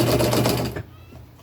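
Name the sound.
sewing machine stitching t-shirt fabric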